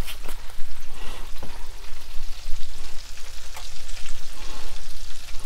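Garlic-powder-sprinkled appetizer food frying and sizzling in a pan on a stove for a Super Bowl spread, a steady dense crackle with occasional louder pops and stirring scrapes, close and loud with no talking.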